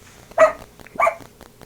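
A dog barks twice, close and fairly loud, with a short pause between the gruff barks and quiet room tone around them.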